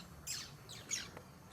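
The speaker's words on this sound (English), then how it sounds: "So just in this little spot of forest here is a white-bearded manakin lek." Several white-bearded manakins call at a lek in tropical forest, giving a few sharp, fairly faint snaps and squawks spaced through a quiet moment.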